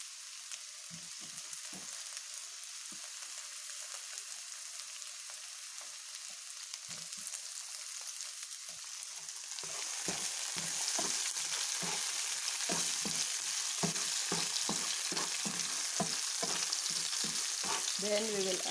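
Tomatoes hit a hot pan of mung beans and fry with a steady sizzle that grows louder partway through, joined by repeated scraping knocks from stirring, with no talking.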